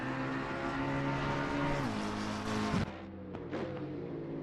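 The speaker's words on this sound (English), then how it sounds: "a lovely shot of Edwin Law running that black McLaren through the sections" A black McLaren race car in a sim racing game endurance event at COTA roars past with a high, harmonic engine note that rises and then drops sharply as it passes, leaving quieter engine sound behind.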